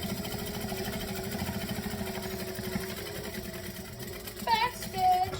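A sewing machine runs steadily, stitching fabric to make a ruffled runaway item; a continuous, even mechanical hum under soft background noise, with a couple of brief higher tones near the end.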